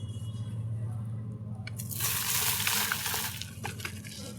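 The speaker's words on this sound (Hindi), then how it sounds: "अब इस मिट्टी को इसके ऊपर हम डालेंगे।" Potting soil is poured onto a pot during repotting of a baby curry leaf plant, a dense crumbly rush and patter that starts suddenly and trails off, close and fairly loud with little talk.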